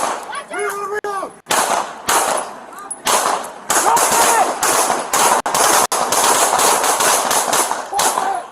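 Rapid, loud gunshots crack during a police pursuit, with sharp bursts and clanging impacts packed close together, and shouting voices heard between the shots.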